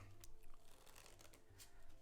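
A push-through shuffle of a deck of playing cards during card magic practice, giving soft riffling and brushing card noise in a couple of short bursts, quiet and close.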